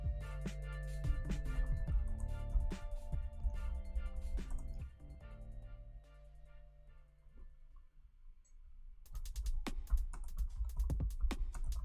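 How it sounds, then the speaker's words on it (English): Rapid clicking keystrokes typed on a computer keyboard during a live stream of a game, irregular bursts of taps that pause midway and then resume more sharply, heard over steady low background music. "let's type out the question"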